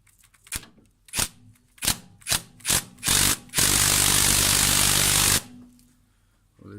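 A handheld power tool gun works on the power steering of an ST170 track car, firing several short, sharp bursts in quick succession before one long, loud sustained run that cuts off abruptly, with no talking.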